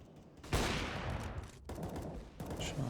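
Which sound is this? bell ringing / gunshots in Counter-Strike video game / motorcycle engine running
gunshots in Counter-Strike video game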